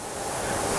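Steady broadband wind roar from a storm brewing outside a workshop with a 100W CO2 laser engraver, a constant rushing wash with no talking, continuous through the short moment.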